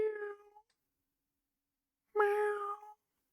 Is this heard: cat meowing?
yes